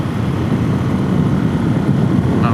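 Suzuki DRZ470S motorcycle engine during a break-in ride, heard as a steady broadband engine and wind roar with the throttle eased off, a continuous low drone at close range with no voices.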